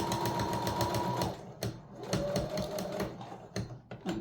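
Sewing machine stitching microfiber cosmetic pads, with a steady rapid mechanical chatter that pauses and restarts in short bursts, close and moderately quiet, with occasional clicks between runs.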